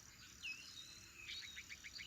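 Crickets chirp faintly in grass in the video game Roadwarden, scattered thin high chirps and short trills over a quiet low background.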